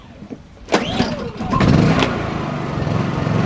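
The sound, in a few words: small propane-converted generator starting and running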